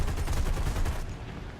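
Aircraft guns fire in War Thunder as a dense, rapid burst of rattling shots, loud and continuous before tapering off abruptly.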